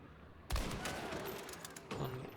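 Krag bolt-action rifle fire in a multiplayer shooter game, a loud sharp shot ringing out followed by a second report shortly after, with echoing tails.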